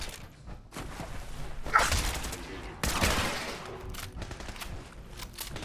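Gunfire in the video game Fallout 4, with scattered shots and bursts mixed into busy combat ambience, including a sharp crack near the middle and a louder blast shortly after.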